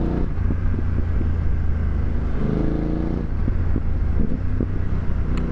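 BMW F900 GS adventure motorcycle idling and running nearby with a steady low, throbbing engine rumble, a brief rise in revs midway, under faint wind noise.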